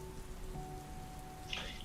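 Steady rain pattering and hissing on surfaces outdoors, a continuous soft wash with a faint tonal hum underneath and a brief brighter splash near the end.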